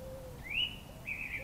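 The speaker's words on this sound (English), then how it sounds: "Birds are so vocal tonight" Birds calling on a still, calm evening after the wind drops: two rising whistled notes, one short and one drawn out, ring out fairly clearly over a low background rumble, with no talking.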